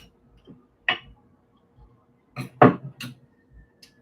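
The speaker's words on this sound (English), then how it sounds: "fill my glass up with some ice" Ice cubes dropped into a glass, a few sharp clinks and knocks scattered over a couple of seconds in a quiet room.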